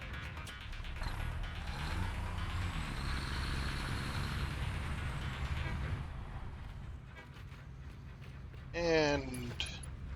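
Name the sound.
truck being driven, from video game Satisfactory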